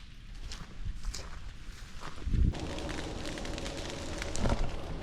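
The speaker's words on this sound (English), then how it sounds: "The sound of fire crackling," A campfire crackles outdoors at night on a motorcycle trip around Australia, with sporadic pops and snaps over a low rumbling roar that swells and thickens midway.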